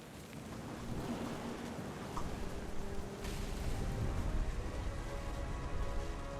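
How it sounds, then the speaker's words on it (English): Thunderstorm in the video game What Remains of Edith Finch: steady rain hiss with a low rolling rumble of thunder building partway through, continuous and moderately loud, no voices. "The thunder sounded much too close and full of angry power."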